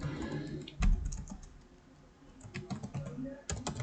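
A computer keyboard clicks as a name is typed, a quick irregular run of close keystrokes with a short pause midway before the tapping resumes.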